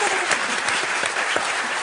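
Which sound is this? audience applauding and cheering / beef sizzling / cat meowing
audience applauding and cheering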